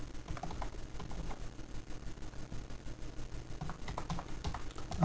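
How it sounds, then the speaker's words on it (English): Fast, steady clicking of keys on a computer keyboard while entering network commands, close up over a low constant hum, with no talk. "Now I'll type in again here"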